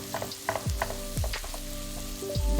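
Aromatics sizzle steadily in a pan over medium-high heat while being cooked for tomato egg drop soup, with a continuous frying hiss and repeated low knocks of stirring or pan movement.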